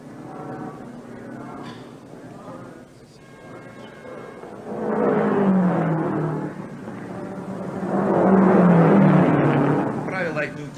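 A race car sits at a pit stop in a played video, engine noise swelling in two loud surges of revving and crowd-like roar, with a voice talking over the quieter stretches.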